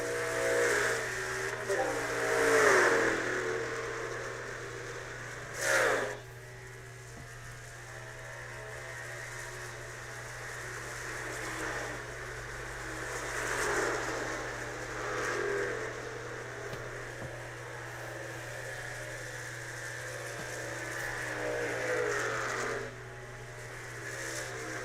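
Truck series racing engines at Pocono Raceway in a racing video game, heard as a low, fairly quiet drone with occasional passing revs. Commentary-style talk runs over most of it.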